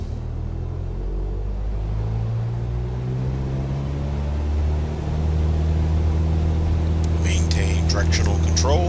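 A Cessna 172 engine in Microsoft Flight Simulator 2020 throttling up for takeoff, a steady low droning rumble that builds in strength as power comes in, with a person talking over it.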